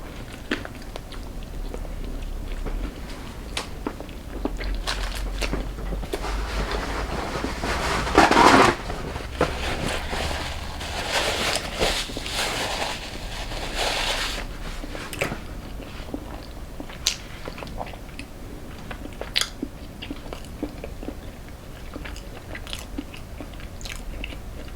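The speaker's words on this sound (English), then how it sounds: "the patty is a little dry. Like it's like it's hard to chew around the edges" Close, intimate chewing and biting on a dry burger patty with tough edges, steady moist mastication punctuated by sharper crunchy bites and one louder burst partway through, with no talking.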